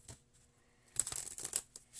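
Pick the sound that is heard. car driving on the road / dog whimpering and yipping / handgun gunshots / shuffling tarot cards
shuffling tarot cards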